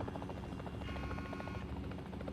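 A helicopter in the video game Warzone flies with a steady, dense rotor thrum and engine whine that hold constant throughout, loud and close with no voices.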